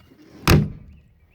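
A single solid thunk as the door of a rotten 1980 Land Rover Series 3 109 swings shut, one loud close-up slam in otherwise quiet surroundings.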